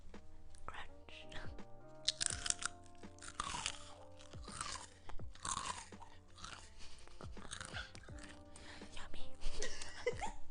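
Close, crisp crunching and chewing of Cheetos Puffs and Takis Fuego chips comes in repeated irregular bursts, with soft whispering voices in between.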